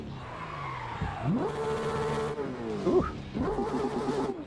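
Tires of a real car spin and skid, a revving engine note rising and sliding in pitch with squealing, loud and close, as a man lets out a short exclamation.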